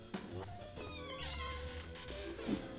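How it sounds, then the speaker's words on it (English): A cat meows with a rising, drawn-out call, faint and somewhat distant, against a quiet indoor background with a few small knocks and shuffles. "random cat showing up on the show"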